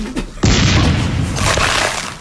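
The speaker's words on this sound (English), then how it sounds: "Tony's shooting himself out of a cannon." A cannon in a Toontown commercial fires a toon out of it with a sudden loud boom, then a broad roaring rumble that sustains and slowly fades over the following two seconds.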